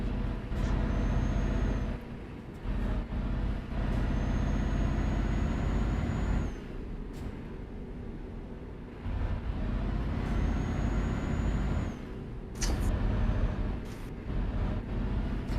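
Air brakes hiss in a truck driving game with classic trucks on ProMods maps. Several long, loud bursts sit over a steady diesel engine drone, with brief gaps and a short high squeal between them.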